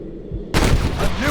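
A single sharp gunshot rings out in the Red Dead Redemption game, loud and close, cracking suddenly after a quiet stretch and trailing off into a brief echoing tail.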